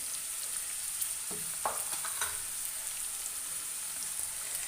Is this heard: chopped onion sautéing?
yes